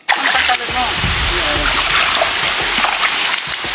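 Water splashes and sloshes steadily as people wade across a river on foot, a loud continuous churning close by with voices talking over it.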